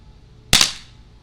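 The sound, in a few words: Smith & Wesson M&P 45 CO2 pistol by Umarex firing single action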